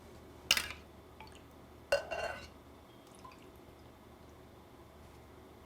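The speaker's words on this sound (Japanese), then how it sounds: "合わせた生地を流します" Strained chawanmushi egg custard mixture poured into serving cups, with two brief splashy liquid bursts and faint drips and a light clink of a vessel in a quiet kitchen.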